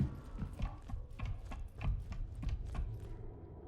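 Footsteps in the sci-fi horror game ROUTINE: a steady series of soft, evenly paced steps on a hard surface, fairly quiet and close, with no voices over them.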